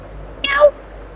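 A single short cat meow, close and clear, rising then falling over a fraction of a second against quiet background.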